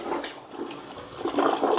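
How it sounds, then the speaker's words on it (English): An American hotel toilet with a very high water level flushes in a continuous rushing swirl that swells louder toward the end, heard up close with no talking. "that's how an American toilet flushes"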